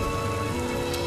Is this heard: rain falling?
yes